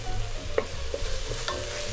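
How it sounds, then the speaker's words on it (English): Onions and garlic paste sizzle in a pan with a steady low fry, cut by a few scraping stirs of a utensil for butter chicken; no one talks. "Now that our onions cook down slightly, I'm going to add a little bit of garlic."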